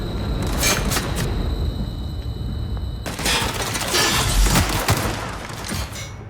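Heavy gunfire crackles in The Outer Worlds, dense bursts and rapid automatic fire coming from several directions in a loud, continuous barrage with no pauses.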